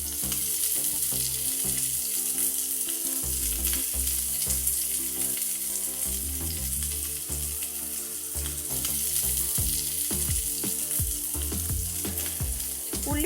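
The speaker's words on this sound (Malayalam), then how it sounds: "ഈ എണ്ണയിൽ തന്നെ ചതച്ചെടുത്ത ഉള്ളിയിട്ടൊന്ന് വഴറ്റി കൊടുക്കാം" Crushed shallots sautéing in hot oil for a spicy chammanthi, a continuous loud sizzle with clattering stirring throughout and some steady background noise.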